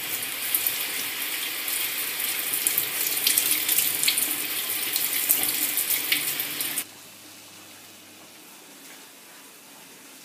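Water from a kitchen tap runs steadily while fresh mint is rinsed under it for mint tea. The flow is close and fairly loud, then cuts off sharply about two-thirds of the way through, leaving a quiet room.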